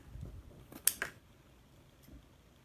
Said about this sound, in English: I'm just going to cut a rectangle